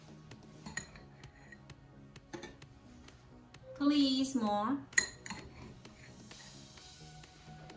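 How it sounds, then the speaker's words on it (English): Glass shards are dropped into a drinking glass, giving scattered bright clinks and taps, with a busier cluster midway as a voice speaks briefly over it. "Sunny put some shards inside the glass."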